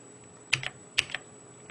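Two distinct keypresses on a computer keyboard, including the caps lock key, each a sharp click with a lighter release, close and isolated in a quiet room.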